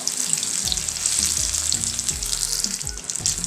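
Tapioca bondas fry in hot oil with a dense, continuous sizzle and crackle, loud and close, with faint low knocks beneath.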